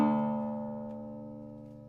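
A single open D string plucked on an acoustic guitar in low bass open G (Spanish) tuning for roots and blues fingerstyle playing rings out clearly and alone, its rich tone slowly decaying.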